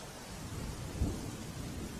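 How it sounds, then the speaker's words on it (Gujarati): Heavy monsoon rain pours down on Lakhani town in Banaskantha, Gujarat, in a steady, dense roar, with a single low thud near the middle. "બનાસકાંઠામાં ધોધમાર વરસાદ છે"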